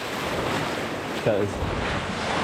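Surf at Newport Beach rolls and crashes in a steady, roaring wash, with wind buffeting the microphone and a brief spoken word.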